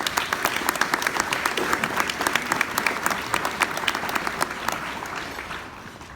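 Sustained applause from a luncheon audience at a scholarship event, welcoming a speaker to the stage: dense steady clapping from many hands that carries on for several seconds, then thins and fades toward the end.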